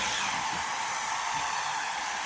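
A hair dryer blows steadily at close range on a section of hair at the crown, a constant loud airy rush with no pauses.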